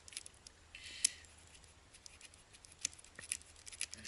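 Quiet snipping and clicking as bungee cords are cut off a Piper Pacer aircraft with a tool, a few sharp close cuts over low background hiss.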